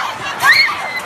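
Panicked crowd of teenagers fleeing a concert hall after a bomb threat, a dense roar of shouting and screaming voices with a shrill cry rising briefly above the din.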